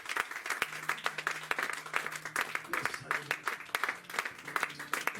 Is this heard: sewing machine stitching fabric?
no